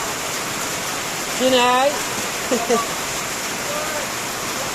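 Heavy summer rain pouring down as a steady, loud wash of noise throughout, with a few short spoken words over it.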